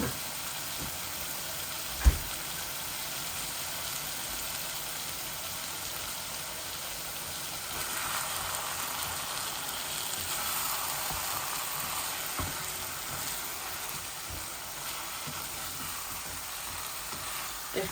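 Chicken and potato curry frying in a pan after tomato puree is added, a steady low sizzle running throughout with a couple of faint stirring knocks, fairly quiet and without talk.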